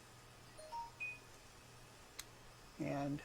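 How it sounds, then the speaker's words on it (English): A mobile phone gives a few short, faint electronic beeps at a 3D printer workbench, near a person talking quietly. "think that was my phone"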